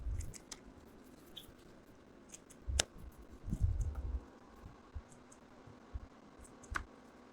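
Scissors snip strips from a Wypall X80 reusable cloth, a few sharp separate clicks and crunches up close in an otherwise quiet room.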